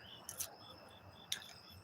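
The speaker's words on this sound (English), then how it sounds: "you may have to hear the crickets" Crickets chirping at night by a porch, heard as a couple of short, faint, high-pitched chirps over quiet background hiss.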